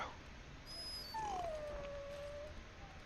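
A dog in the video game Dragon Age Origins lets out a single drawn-out whimper that slides downward in pitch, close and clear over faint game ambience.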